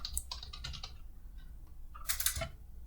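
Fingers typing personal details into a software download form on a computer keyboard, bursts of quick close key clicks, a pause, then another short flurry of taps with no talking.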